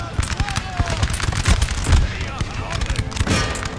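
Musket volleys in an Empire Total War battle, dense crackling gunfire popping in quick overlapping bursts, loud and near, with booming reports and a voice giving orders over the shooting.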